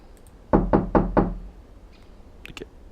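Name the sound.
knocking on a door, from the video game Dysfunctional Systems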